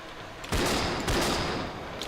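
Handgun-class Cannon firing in a video game: two loud, sharp gunshot blasts with long ringing decay, alone, no talk.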